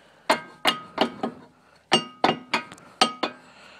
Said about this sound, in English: Now I can just tap it in with a screwdriver or with my hand.